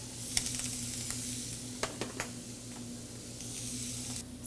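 Shrimp, tasso and bacon with garlic, salt and pepper sizzle in a pan over medium heat, a soft steady fry punctuated by a few sharp spatters and stirring scrapes, with no talking.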